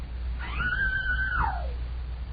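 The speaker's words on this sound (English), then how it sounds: "Scream like you were being murdered." A single drawn-out scream, rising then holding a high wavering pitch before sliding down, about a second long, heard alone over a low steady hum in an indoor setting.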